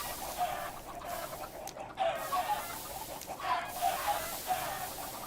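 Chickens cluck in a game soundtrack, a dense flock of repeated clucks and chatter over a steady noisy background, moderately loud and continuous.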